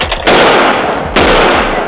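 Police gunfire during an arrest: two loud, sharp bursts of shots roughly a second apart, each ringing out with a broad, sustained rush of noise, with no talking.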